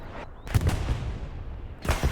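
Bursts of machine gun fire in a competitive multiplayer shooter match, two loud rattling volleys near the start and the end with a quieter lull between them and no voices.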